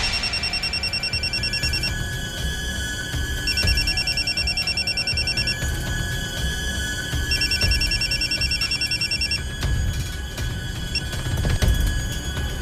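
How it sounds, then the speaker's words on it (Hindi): A telephone rings in repeated electronic bursts, each lasting about two seconds with short pauses between, over low background rumble. "फिर मैंने वसीम के फोन पे कॉल किया था।"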